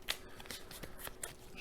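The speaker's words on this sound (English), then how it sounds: "Shuffle up, and let's see what damage is done" Quiet riffle shuffling of a card deck during a solo tabletop board game, a soft run of papery flicks and snaps with no talking.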